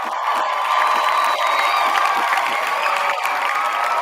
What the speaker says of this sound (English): let's get a round of applause for our good guest, Mr. Wyatt Michael.